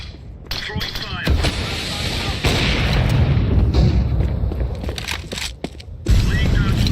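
A molotov fire grenade thrown during a Counter-Strike 2 competitive match gives dense, continuous roaring and crackling with thumps, loud and sustained, with voice chat and game noise mixed in throughout.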